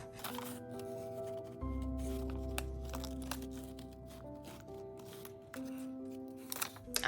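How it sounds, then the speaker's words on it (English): Scissors cutting flower shapes out of recycled paper bag paper, snipping and crinkling in short irregular bursts close by, over soft background music. "I'd like to cut out where the flowers are here"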